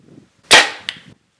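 A broadhead arrow loosed from a bow strikes a target at 25 yards, heard as one sharp loud crack that decays quickly, then a second fainter click a moment later, with quiet around it.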